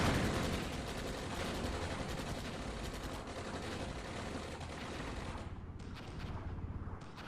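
Continuous artillery and heavy gunfire from the video game Armored Brigade, a dense rolling barrage of overlapping booms and cracks that holds loud for several seconds before thinning into scattered shots near the end.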